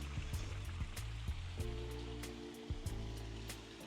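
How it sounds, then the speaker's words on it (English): Water spilling steadily from a backyard pool waterfall feature, a continuous near splashing rush with small droplet patters and soft low tonal hum beneath, no talk. "You got the waterfalls, water features back there"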